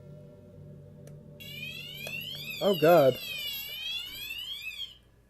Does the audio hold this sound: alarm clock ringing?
yes